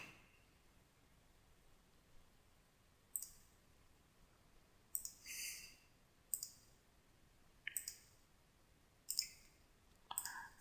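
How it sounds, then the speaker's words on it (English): Quiet, crisp computer mouse clicks sound close by, mostly in quick double clicks spaced a second or two apart, over faint background hiss. "Double click on the window icon."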